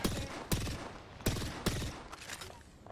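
Gunfire in Apex Legends during an ALGS Split 2 playoff bracket match: several sharp, loud shots at irregular intervals over a dense, continuous backdrop of distant battle noise.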